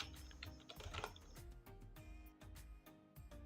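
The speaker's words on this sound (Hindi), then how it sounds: "अब मैं यहाँ पे क्लिक करूँगा और यहाँ पे टाइप कर देता हूँ मैं" Fingers tap quickly and steadily on a computer keyboard in soft, close clicks, with short pauses between bursts of keystrokes.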